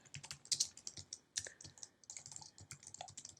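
Fingers type on a computer keyboard at a desk, a quick irregular run of soft clicks with a few sharper key strikes, close and quiet.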